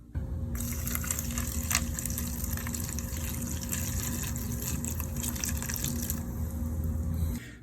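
Running water steadily gushes from a tap, filling a vinegar bath for soaking old accordion parts, a continuous close splashing stream that stops near the end.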